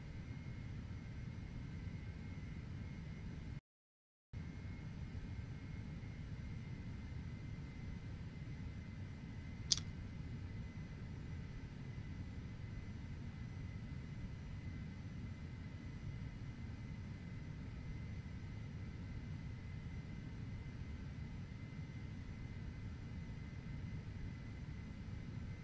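Steady drone of a small fixed-wing airplane engine in cruise flight, a constant low rumble heard from inside the cabin with no talk, one brief dropout and a single faint click partway through.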